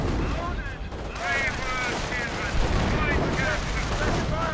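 Machine gun fire from the World War II strategy game Company of Heroes rattles on continuously, dense and loud, mixed with other battle noise, while a voice talks over it.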